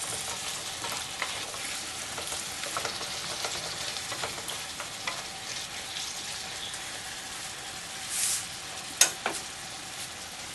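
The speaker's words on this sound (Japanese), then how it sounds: "今で30分ほど炒めてますので、あとそうですね、少なくとも2時間炒めます。" Onions sizzle in a pan during a long slow sauté toward golden brown for curry, a steady soft frying hiss close by with faint stirring scrapes and a couple of brief clinks.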